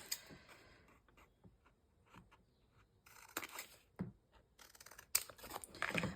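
Paper being cut down with scissors for a junk journal: a series of crisp, close snips and rustles arriving in irregular bursts with short pauses between them, no talking.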